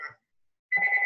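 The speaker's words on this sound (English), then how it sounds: "somebody's phone's ringing" A phone rings on a teleconference line, a short electronic chirp, a gap of silence, then a louder sustained ringing tone at moderate level.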